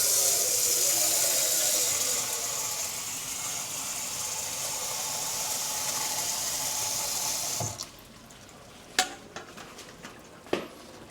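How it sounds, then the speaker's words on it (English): Water pours steadily into a pot of cooking marmalade for several seconds, then stops, followed by a few sharp clinks and taps of the pot or utensil. "I am gonna add more water."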